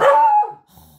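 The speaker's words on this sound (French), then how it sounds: "Dès qu'il entend le moindre bruit, il aboie." A pet dog gives a single loud, close bark that fades into a short whimpering tail.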